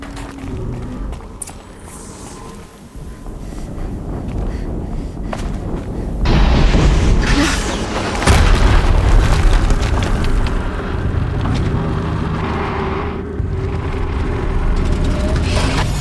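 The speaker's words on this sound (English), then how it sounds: "Another explosion." Explosions in the video game Horizon Zero Dawn boom and rumble loudly, with a sustained roaring wash and heavier blasts hitting midway, continuous with no gaps.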